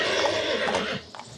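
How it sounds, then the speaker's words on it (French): A royal stallion at a centuries-old Slovenian stud farm lets out a loud, close whinny that trembles for about a second, then breaks off into a few faint snorts and shuffles. "Un étalon né à la cour de Vienne, classé au patrimoine mondial de l'UNESCO, qui depuis 500 ans dans ce haras"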